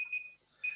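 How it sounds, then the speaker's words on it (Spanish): A short electronic alarm beeps twice in a quiet room, thin and steady tones separated by a brief gap, fairly faint and alone. "perdón, es la alarma que me había saltado"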